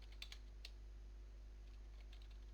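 A computer keyboard taps quietly in a few quick, light clicks over a steady low hum, with no talking.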